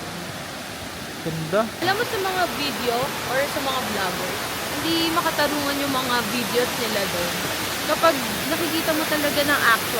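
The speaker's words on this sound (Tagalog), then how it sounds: "yung tunog ng tubig na rumaragasa" Steady broadband rush of a waterfall's rushing water near Cat Cat Village in Sapa, a constant hiss underneath two people chatting for most of the clip.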